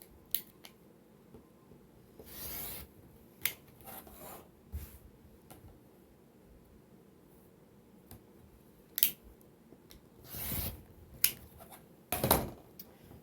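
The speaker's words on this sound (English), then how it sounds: "We're just going to cut it right on that line that we drew" Scissors cutting apart quilt fabric blocks along a drawn line: scattered crisp snips and short cutting runs, some in quick pairs, separated by quiet pauses while the fabric is handled.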